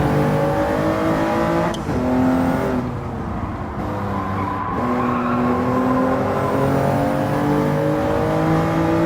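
A car engine revving in a racing video game, with a loud, close engine whining up and down through the gears, a short tire squeal partway through, and no voices.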